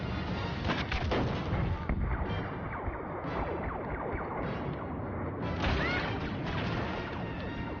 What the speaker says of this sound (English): AT-AT is about to open fire at the main power generator